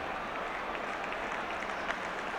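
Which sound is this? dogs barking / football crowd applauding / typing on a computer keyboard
football crowd applauding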